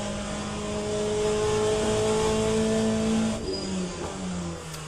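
Race car engine in LMU sim racing, revving hard near the red line with steady high-pitched harmonic drone, then a brief drop and shift, loud and close with no talk.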